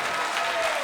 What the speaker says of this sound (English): Listen to the crowd.